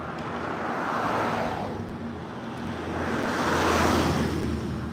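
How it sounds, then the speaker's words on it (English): Heavy trucks rumble past on a street in Malta, a continuous broadband roar of traffic and wind that swells twice as vehicles go by, fairly close, with no talk. "There is a lot of trucks passing by"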